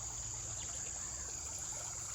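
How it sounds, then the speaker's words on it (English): A small woodland creek swollen after rain trickles and flows steadily, a soft continuous babble with insects buzzing high over it and no voices. "this little creek is flowing pretty good"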